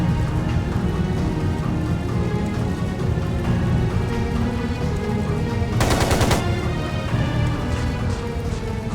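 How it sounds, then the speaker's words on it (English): Machine gun fire in the video game Trails of Cold Steel 2: loud, sustained rapid automatic gunfire that rattles on without a break, with a sharper, brighter burst of shots partway through. "It sounded like a machine gun."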